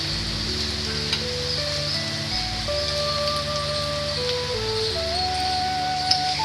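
Fish pieces frying in a pan make a steady, dense sizzle like rain, constant and close throughout, with soft music playing underneath.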